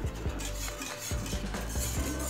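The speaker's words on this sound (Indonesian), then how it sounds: "Kita aduk kembali hingga mendidih dan meletup-meletup." A utensil scrapes and knocks rhythmically against a pot while a thick ice cream mixture boils, bubbling and popping underneath, steady and close.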